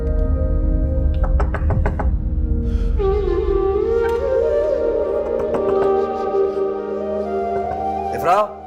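A run of knocks on a door, several sharp raps close together near the start, followed by a sustained tonal musical backdrop in a dramatic household scene.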